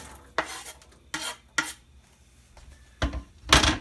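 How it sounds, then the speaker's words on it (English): Two medium chopped onions going into a pot over a medium burner for home-canned baked beans, heard as several separate loud scraping, stirring bursts with quiet pauses between. "now I'm going to add 2 medium onions chopped"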